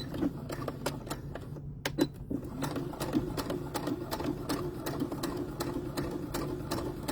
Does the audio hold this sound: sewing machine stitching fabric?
yes